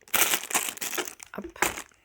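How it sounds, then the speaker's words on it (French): A cardboard game box is opened one-handed, producing short bursts of crinkling and rustling scrapes, close and fairly loud, with brief pauses between handling noises. "Je vais essayer de l'ouvrir d'une main et avec les pions."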